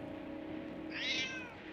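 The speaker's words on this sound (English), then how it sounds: "Lux, who's a clever cat?" A cat named Lux gives one short, high meow near the end, close and fairly clear, over a low steady background hum.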